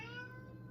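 A pet cat meows once, a single drawn-out call with clear harmonic tones that holds steady then fades slightly, close by and alone in a quiet indoor room.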